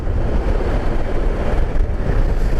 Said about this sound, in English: You can hear that wind tonight, but she's really starting to blow now.